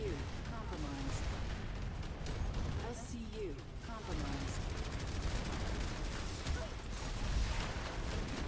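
Rapid automatic gunfire from the Jaguar weapon in the shooter game Planetside, rattling bursts running throughout over dense in-game battle noise and explosions.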